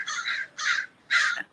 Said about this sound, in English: The crows is upset as well. I don't know if y'all hear that.